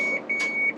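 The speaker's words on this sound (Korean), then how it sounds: "이게 그 라인 트래킹이 있어가지고 선을 밟으면 알람이 울려요" Lane-tracking warning alarm in a Renault Master van: a steady high electronic tone sounds across the clip and swells in three short pulses, set against a low engine and road hum.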